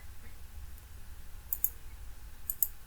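Mouse clicks on an apply button in ParaFoam software come as two sharp, quick clicks about a second apart, close and distinct over a faint background hum.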